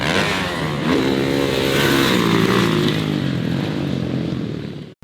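A dirt bike engine lapping a track roars loud and close, revving and shifting pitch continuously for several seconds before cutting off abruptly.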